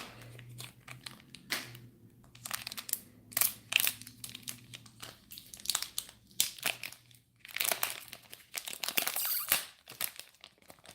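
Bakugan Battle Planet cards being pulled from a foil booster pack, with close, irregular crinkling and rustling of foil in quick bursts, fairly quiet and without talk.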